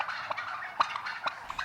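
Turkeys gobbling on a poultry farm, several birds giving rapid, warbling gobbles in overlapping bursts, moderately close and loud with no voices.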